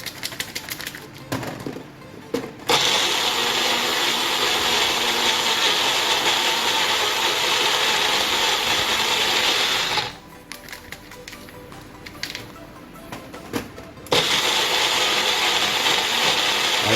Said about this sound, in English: And then I'm gonna add it to my Magic Bullet blender